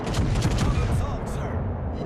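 Explosion of an enemy destroyer during World of Warcraft naval combat: a loud, sustained rumbling blast with crackling fire-like texture, dense low booms filling the whole clip, with voices mixed in.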